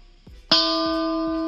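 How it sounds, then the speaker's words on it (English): After a couple of soft taps, a single bright metallic bell-like electric guitar tone, made with the B string folded over the G string, strikes and rings on steadily, sustained and clear. "The bell sound. Similar to the gong sound, but it's easier."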